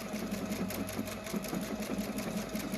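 A Performance Icon sewing machine runs steadily, its needle stitching in a fast, even mechanical rhythm up close, with no talking over it.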